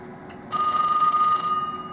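An old telephone bursts into loud, continuous electric bell ringing after a half-second of quiet hum, the ring sustained close by and steady, no talk.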